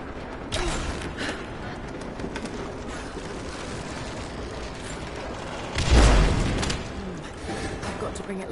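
A bucket mechanism in the game Rise of the Tomb Raider creaks and groans as it lowers, with scattered mechanical clanks and a heavy thud near the middle over a rough continuous rumble.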